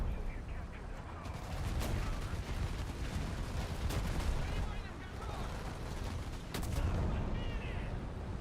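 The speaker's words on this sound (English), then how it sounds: "Machine gun and gun." Dense, continuous machine-gun and tank cannon fire from a War Thunder heavy tank battle, loud and near, with rapid bursts and heavier booms layered throughout the whole stretch.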